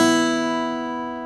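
A single C sharp note picked on a Delta blues guitar, one clear tone with rich overtones that starts bright and fades steadily over about a second, heard alone.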